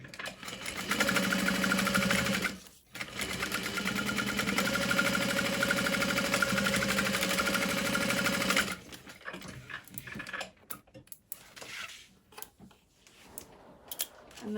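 A sewing machine runs steadily, back stitching over the connectors of a Divina tote bag for about nine seconds, pausing briefly once, then giving way to quieter handling clicks and rustles.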